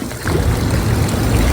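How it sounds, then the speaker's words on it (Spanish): Spring water runs steadily from a public fountain in a Zurich street, a continuous close splashing wash with no breaks and no talking. "acá se carga agua, está lleno de estas fuentes donde uno puede cargar agua pura de manantial"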